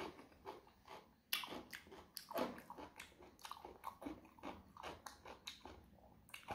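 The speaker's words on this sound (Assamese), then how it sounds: "মই আজি এইখিনি খাই লওঁ বহুত ভোক লাগছে" Close, wet chewing and crunching of a fresh salad of tomato, radish and carrot, with repeated irregular bites and mastication sounds, loud and near, no talking.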